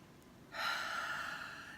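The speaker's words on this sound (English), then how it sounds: "Deep breaths." A single deep, audible inhalation, breathy and close, swells suddenly and holds steadily for over a second during a guided cord-cutting meditation for releasing shame.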